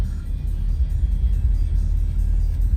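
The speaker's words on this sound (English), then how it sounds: "This guy's got that new Ford Lightning. The Ford Lightning truck." A new Ford Lightning electric pickup truck drives on the road with a steady, loud low rumble of traffic and tires that stays constant throughout, with no talking.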